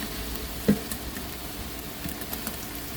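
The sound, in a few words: onions and ginger paste frying in a pan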